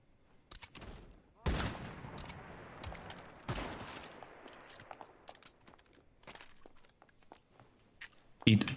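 Gunfire aimed at the player in a video game: loud bursts around the second and fourth seconds, scattered smaller shots between, and a sharp final blast at the end.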